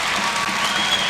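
Arena crowd at a 1993 men's college volleyball match against Ohio State applauding a hit, a steady dense wash of clapping from many hands throughout, moderately loud.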